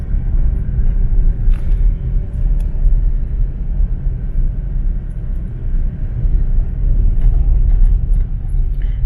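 Steady low road rumble from a car driving along Cabancalan Road in Cebu, a continuous engine and tyre drone with no breaks, close and fairly loud throughout.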